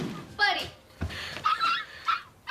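A puppy named Buddy whimpers and yips in short, high, wavering cries, several separate bursts over a few seconds, heard close amid a tense domestic scene with people speaking nearby.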